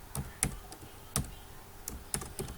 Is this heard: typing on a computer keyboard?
yes